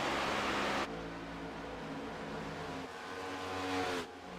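A race car in an ICON Cup Series race at Daytona, heard from on board, holds a loud steady engine drone at high speed, its pitch shifting slightly as it runs in the draft, with no talking.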